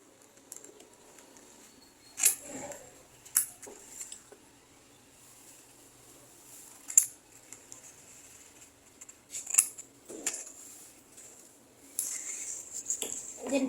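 Scissors snip through paper while a paper jet is being cut out, several sharp isolated cuts scattered over quiet pauses, with a few longer rustling passes near the end, close and clear.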